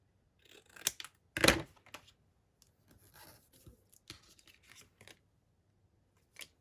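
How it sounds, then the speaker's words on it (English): Scissors snipping paper junk-journal cards: scattered soft snips and rustles with one louder crunchy cut, quiet with silent gaps between. "I still need to cut a bit more off down the bottom here."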